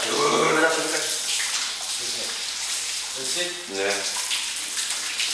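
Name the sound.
shower water running as coast guard team showers after training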